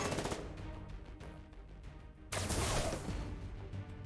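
Sustained bursts of video-game gunfire from XCOM, dense and loud throughout, with a sharper, heavier volley kicking in halfway through; no talking.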